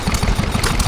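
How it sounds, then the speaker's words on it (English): Ruston Hornsby stationary engine driving a wood turning machine, a steady low chugging idle with a rapid even beat, close and continuous through the short stretch. "here we see a Ruston Hornsby, which is a model, which is the stationary engine, and it's running a wood turning"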